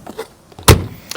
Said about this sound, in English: we'll just open the standard Thetford cassette toilet